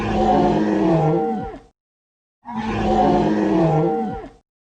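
A dragon lets out two long, loud screeching roars from the skies, each a sustained rough bellow that rises and then trails off, separated by a brief silence.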